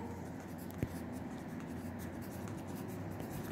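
A pen writes the homework title and date in class, a quiet steady scratching with one small tap, no talking.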